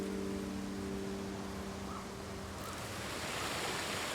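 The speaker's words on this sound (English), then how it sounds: "But look at that waterfall" Waterfall in Ghost of Tsushima, a steady broadband rush of falling water that grows stronger toward the end, with a faint tonal hum fading out early on.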